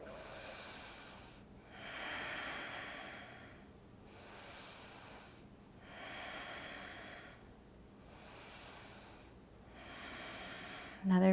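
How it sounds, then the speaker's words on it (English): Slow, deep breaths during a yoga practice, close and audible, with four or five long inhale and exhale cycles at an even, unhurried pace and no speech. "And breathe and breathe."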